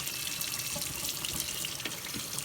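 Kitchen tap water runs steadily and close up, a continuous hissing splash with small fluctuations as something is washed under it, with no talking.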